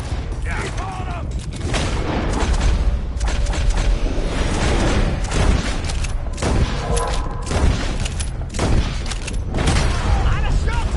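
A Red Dead Redemption 2 gunfight, with a dense, continuous run of gunshot cracks and booms from several guns that rise and fall across the whole stretch. Shouted voices come in among the shooting.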